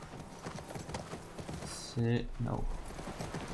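Horse hooves clip-clop steadily in The Last of Us Part II, a rhythmic patter of hoofbeats under game ambience, with a horse snort or whinny near the middle and a person speaking over it.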